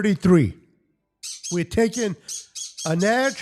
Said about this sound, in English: I apologize for my birds in the background.